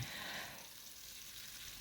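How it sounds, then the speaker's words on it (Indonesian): Oil crackles and sizzles steadily in a pan while anchovies (teri) are fried in batches, a dense continuous hiss that stays close and even throughout with no voices. "seperti ini saya goreng beberapa kali karena supaya nggak boros minyak ya"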